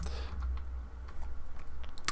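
Computer keyboard keys are pressed in a handful of quick, light clicks over a low steady hum, with a sharper tap at the end.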